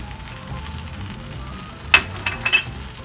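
Vietnamese egg noodles stir-frying in a pan with sesame oil and spring onions, a soft steady sizzle broken by a few sharp crackling bursts near the end.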